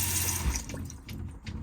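Water running from a motorhome sink tap, a close, steady splashing hiss with small gurgles and drips, no voices.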